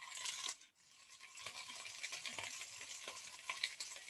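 Sliced peppers and onions sizzle and crackle in a pan alongside sausage, a steady close frying hiss broken by scraping and light knocks as they are spread around.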